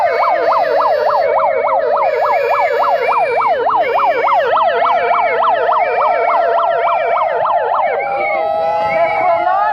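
A fire engine siren from a nearby fire station wails loud and close in a fast, steady yelp, with a second siren tone layered over it, before it shifts to a slower held wail near the end.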